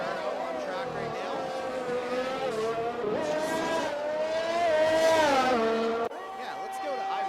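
Italian Grand Prix race car on track in an F1 video game, engine whine rising and shifting in pitch throughout, loud and steady with a brief drop near the end.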